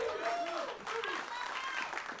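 A crowd at a junior wrestling showcase cheers and applauds steadily, with a commentator talking over the noise.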